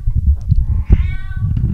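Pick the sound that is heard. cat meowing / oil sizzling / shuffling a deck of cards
cat meowing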